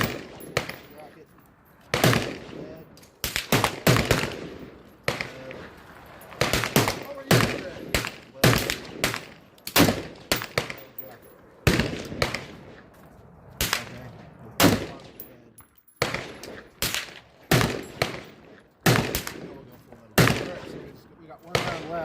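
ATI FXH45 Moxie 1911 hybrid pistol fires full metal jacket rounds, sharp close gunshots in irregular bursts and single reports, with pauses between strings and a voice speaking in between.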